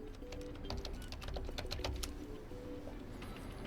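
Rapid, steady key clicks from typing on an LG Gram laptop keyboard, close and alone, with a brief denser burst midway.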